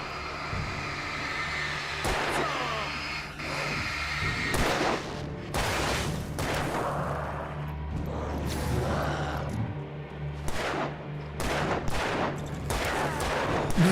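Rapid gunfire from the Alan Wake video game, with repeated sharp shots and bursts spread across the span over a dense, loud backdrop of game ambience and effects.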